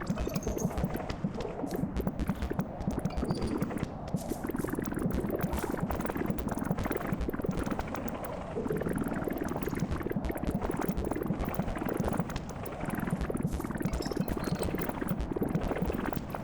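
Bubbles blown in the game Animal Well make a dense, continuous bubbling and popping stream that runs loud and uninterrupted, with no one talking.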